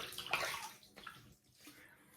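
Water splashing and sloshing as a face is wetted before a shave, soft close splashes over about two seconds, fairly quiet with no talk.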